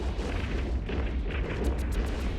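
Weapons fire and explosions rumble through an EVE Online fleet battle, a dense, continuous barrage of booms and crackling bursts, loud and unbroken, with sharper pops rising near the end.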